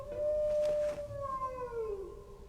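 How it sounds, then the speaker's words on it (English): A wolf howl in the video game Might and Magic VI: one long, rising-then-falling tonal cry, moderately loud and alone over a quiet ambient backdrop, trailing off into a wavering tail. "a wolf howl just pierced the silence"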